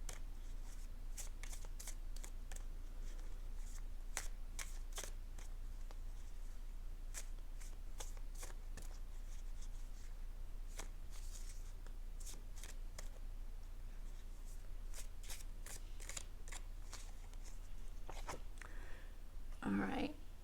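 Tarot cards are shuffled close up in a steady series of crisp riffling bursts over a constant low hum, and a person speaks briefly near the end.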